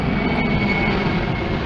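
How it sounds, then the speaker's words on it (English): Airplane passing low over a military cemetery memorial, a loud, steady jet engine roar with a sustained whine, close overhead and continuous throughout. "see the plane crossing here?"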